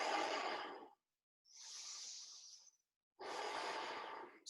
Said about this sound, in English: quite dynamic Ujjayi breaths